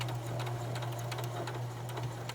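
A Pfaff 140s sewing machine back stitching through fabric, a close, continuous rapid mechanical whir and ticking of the needle with a steady motor hum underneath.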